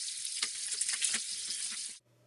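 Three bacon strips sizzle loudly on a grill, a steady broadband crackle with popping spatters that cuts off abruptly near the end.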